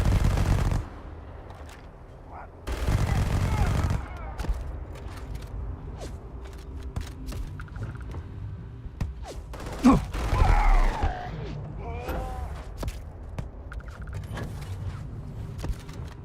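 Enemy gunfire in Starfield: bursts of rapid automatic shots, loud near the start and then sporadic shots and mechanical whirs at a distance.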